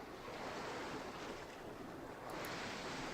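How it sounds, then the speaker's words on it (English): Steady, continuous surf and breaking ocean waves for a beach scene in an RPG Maker game, with a broad wash of noise that holds at an even level, plus a slight swell near the end; no voices. "This is going to be sort of like at the beach, so we can do like the sounds of surf and waves."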